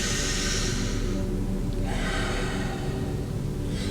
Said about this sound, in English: I'm taking deep breaths in